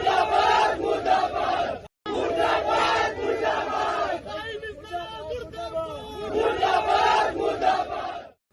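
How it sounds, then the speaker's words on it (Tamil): A large crowd chants slogans in praise, loud rhythmic massed voices in repeated bursts with a brief break, close and energetic. "அப்போது அவர்களை புகழ்ந்து முழக்கங்கள் எழுப்பப்பட்டன"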